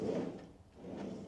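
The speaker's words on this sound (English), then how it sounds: "Some drawers over here, look." Drawers slide open aboard a steel motor yacht, two soft rolling scrapes close by with a short pause between them.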